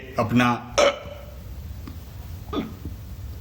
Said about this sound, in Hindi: हिचकी आ रही है भाइयों, बहुत भयंकर है